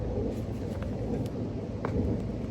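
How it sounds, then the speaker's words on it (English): Thunder rumbles low and distant outside Notre Dame Cathedral in Paris, a continuous dull roll with light rain hiss layered over it and no voices. "And there's the thunder"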